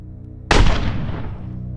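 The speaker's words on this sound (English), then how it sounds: "she heard his voice again and a shot that silenced it" A single sharp gunshot cracks out suddenly and loudly, then rings on in a long decaying tail over a low background hum, with no talking.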